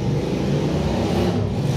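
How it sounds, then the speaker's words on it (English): A large motorcycle rumbles past up close as one continuous, loud engine roar lasting under two seconds, with no voices. "a huge motorcycle just came by"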